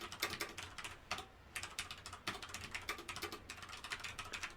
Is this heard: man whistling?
no